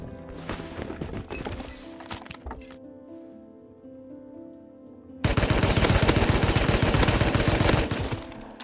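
Dense automatic gunfire crackles in Rust, a rapid burst that stops for about two seconds, then a louder, sustained volley of close shots rattles without a break.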